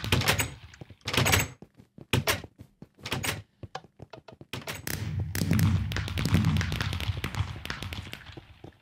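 Doors in the video game Minecraft, a series of short percussive thunks and clacks at uneven intervals, followed by a longer stretch of denser, rumbling clatter, close and fairly loud with no speech.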